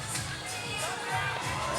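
Crowd noise at an MMA event, sustained cheering and shouting from a live audience that rises and swells as a fighter hypes them up before the third and final round, steady and fairly loud throughout.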